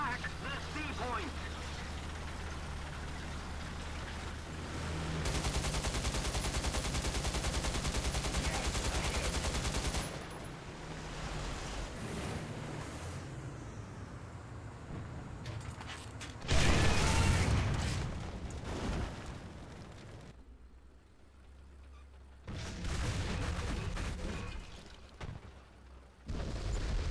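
Heavy tank cannon fire and battle noise in War Thunder tank combat, a T-10M facing a Leopard, with loud booming blasts and rumbling bursts over a continuous noisy background.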